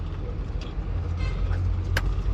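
A Bharat Benz truck pulls away from a fuel station with a deep, steady diesel rumble, a short horn toot briefly cutting through near the end.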